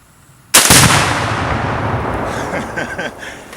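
An AR-10 .308 rifle shot sets off a 2-pound Tannerite exploding target, one sudden loud blast that rolls on in a long fading rumble with echoes trailing after it.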